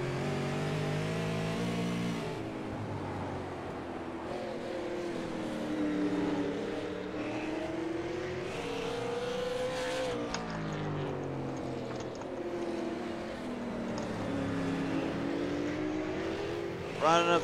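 Super late model stock cars race at South Boston Speedway, engines droning and rising in pitch through the laps as cars pass, with a commentator talking over the steady roar.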